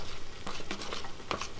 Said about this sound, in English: we're just going to stir that in